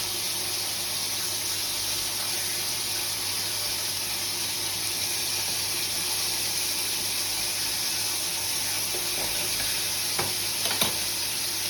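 Bacon frying in a small pan, a steady broadband sizzle that holds evenly throughout, with a couple of faint clinks near the end and no talking.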